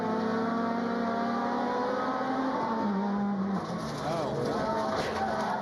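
Onboard engine of a Kia race car lapping Mid-Ohio during the 2011 Emco Gears Classic, a loud steady drone that climbs and drops through gear changes, with commentators talking over it.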